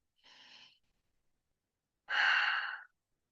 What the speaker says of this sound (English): One more cleansing breath.